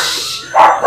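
A voice imitates a dog in a Scooby-Doo style, giving two short, loud bark-like yelps close to the microphone.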